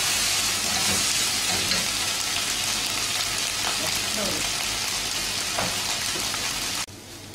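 Vegetables stir-fried with soy sauce hiss and sizzle loudly in a hot pan, a dense steady frying roar with faint scrapes of tossing, which ends abruptly near the close.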